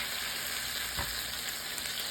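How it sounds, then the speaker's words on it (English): A birria taco fries in a pan with oily consommé, giving a steady, even sizzle that lasts the whole time. It is close and moderately loud, with no voices. "And you can use some consommé in the pan itself so that it helps because it has oil in it."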